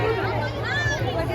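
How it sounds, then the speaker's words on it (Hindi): Dense crowd babble at a busy village fair with stalls selling pictures of gods, vegetables and toys, many overlapping voices blending into a steady, close hubbub. "भीड़ एकदम पूरा ताबड़तोड़ भीड़ है"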